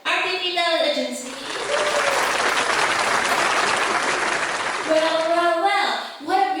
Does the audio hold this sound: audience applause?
yes